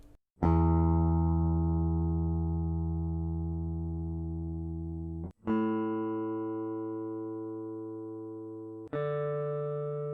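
A low E string on an electric guitar is plucked and left to ring, slowly fading, followed by two more plucked notes that sustain cleanly.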